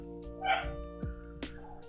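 A puppy gives a few short, high yips and barks indoors, close and fairly loud, separated by brief pauses against a low background hum.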